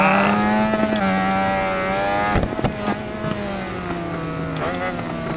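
A 1988 Honda VFR750R RC30 racing at Tsukuba Circuit in Ride 4, its engine howling loud and close with steady rising and falling revs, clipped by quick gear shifts and a few sharp mechanical knocks.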